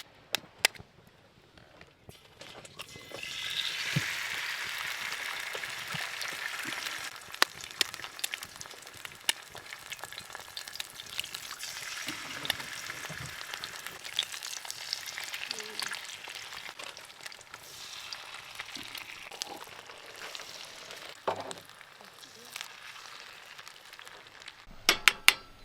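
Bacon and eggs fry over a campfire outdoors in the West MacDonnell Ranges, a soft continuous sizzle broken by occasional utensil clinks and scrapes.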